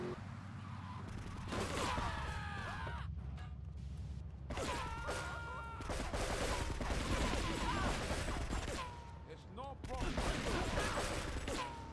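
Scattered bursts of gunfire in GTA with the Frosted Winter mod, several short volleys separated by gaps, fairly quiet and mixed with other game sounds and occasional talk.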